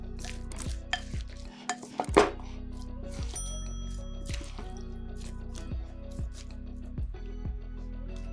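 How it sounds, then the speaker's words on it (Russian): Repeated stirring and scraping of an eggplant and pepper salad in a bowl, wet squishing and soft clinks in an uneven rhythm, close and fairly quiet, with no voices. "Все опять перемешиваем."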